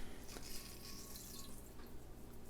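Water pours from half a can into a pot for cooking jasmine rice, a faint, soft trickle that runs steadily for a couple of seconds.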